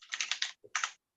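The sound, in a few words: computer keyboard clicking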